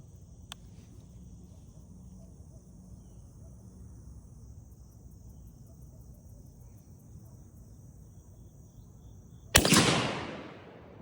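A shotgun shell with a fast 1,500 fps load is fired once at a 35-yard pattern target through an improved cylinder choke. A single loud, sharp blast with a decaying tail comes near the end, after a long stretch of quiet outdoor hiss and steady insect chirring.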